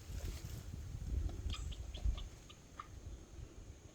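Chickens in a pen beside a garden high tunnel cluck a few scattered times at moderate distance over a rumbling outdoor background.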